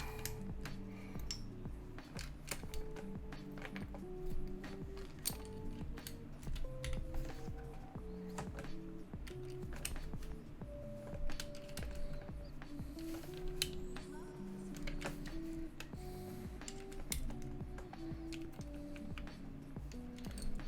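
Steady typing on a Kepler mechanical keyboard with a POM plate and Zealios v2 switches, a close, continuous patter of crisp clacky keystrokes with occasional heavier presses, the rhythm running without pause.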